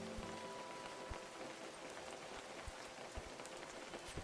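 Rain falling in a Godot-made video game, a dense continuous patter of drops on surfaces with scattered louder splats, steady and close, with no voices.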